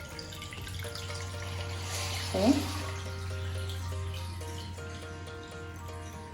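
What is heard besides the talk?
pouring ionized water into a glass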